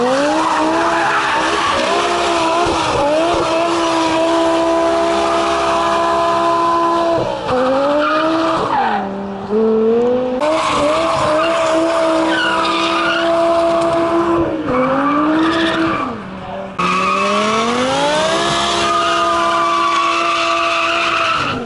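A V10 BMW M5 accelerates hard and loud, its engine note sweeping up through the gears in long rising pulls, with brief dips between shifts and tire squeal mixed in, close and continuous throughout.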